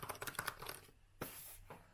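Quick bursts of clicky keystrokes on a thin MacBook butterfly keyboard, close and crisp, with a short silent gap midway before more tapping resumes.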